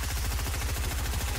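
Rapid automatic gunfire from a weapon in Fortnite rattles in a fast, even burst of closely spaced shots, loud and continuous over the short span.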